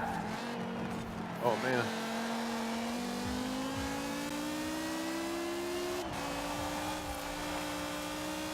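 Rally car engine in a driving video game, a steady droning note that climbs slowly in pitch as it accelerates, with a brief rev change midway, running continuously under a man's exclamation.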